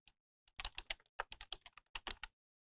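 Fingers type an email address on a computer keyboard in quick, uneven bursts of crisp keystrokes, close and clear, with short pauses between runs and no voices.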